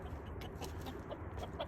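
Chickens cluck softly in a yard, making short, scattered calls that sit over a steady low background hum, close but quiet.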